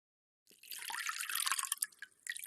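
Water splashing and trickling as feet are rinsed after a foot soak, a close, continuous watery wash that starts abruptly and carries on with small drips and sloshes.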